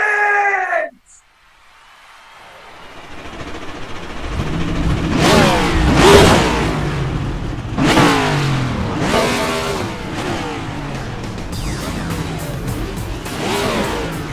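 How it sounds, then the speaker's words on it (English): Race car engines in the iRacing video game, an eNASCAR event at Kansas Speedway, fire up after a brief burst of crowd noise, then rev and rise in repeated loud surges as the engines build. "drivers, start your engines!"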